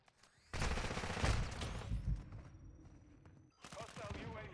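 Dense bursts of automatic gunfire from a Modern Warfare 2 match crackle in rapid volleys, pausing briefly before another loud burst, with a player's voice talking over the combat.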